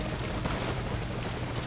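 Steady rotor drone of the Morpho helicopter in the video game MGS Ground Zeroes, a constant loud whirring with faint periodic chop and no voices.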